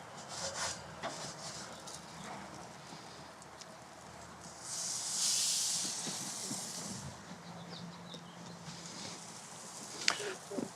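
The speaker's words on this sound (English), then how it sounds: "And it's going to go right on the grill," Salmon seasoned with herbs and spices sizzles on an oiled outdoor grill, a steady soft hiss that swells louder midway before settling, with a sharp click near the end.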